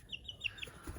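A chicken, a young bird just acquired, gives a few soft high clucks and chirps nearby, quiet and brief, with low rustling and handling noise near the end.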